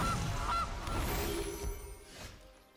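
Gilded Goose honk effect from MTG Arena, the digital card game: a couple of quick honks near the start, set within a dense wash of game music and card effects that fades out.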